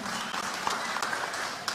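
Applause from an audience at a Narc Kenya party convention, a steady, distant wash of clapping filling the whole moment.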